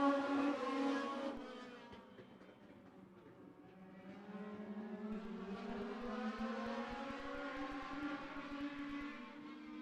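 Race trucks at a speedway for the Universal Truck and Trailer 150 roar past in a steady pack, the engines' drone swelling and fading and then holding loud and continuous.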